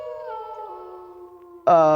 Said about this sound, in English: Who makes the wolf howl?